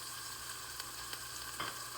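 Food is stirred in a frying pan under a faint, steady sizzle, with a few soft scrapes of the utensil against the pan and no talking.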